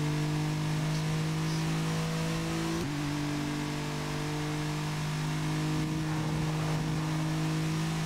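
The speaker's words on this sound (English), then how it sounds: "I complained about the engine noise being very loud" An Alfa Romeo GTV engine in the Toca Race Driver racing game at Vallelunga holds a loud, steady mid-pitched drone, with a brief shift in pitch midway, continuous and alone.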